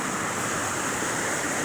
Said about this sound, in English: This drain right here is so bad that there's basically a small river running across my road